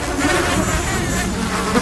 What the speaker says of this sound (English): With a swarm of hungry mosquitoes buzzing around